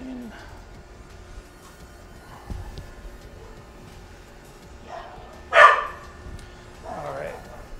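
A dog barks a few times in the background during a tabletop wargame session, one loud sharp burst standing out among softer yips, with low room noise and quiet talk around it.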